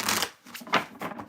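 Tarot cards being shuffled by hand at a reading, giving a few soft riffling swishes and light card slaps close to the listener, with faint voice sounds underneath.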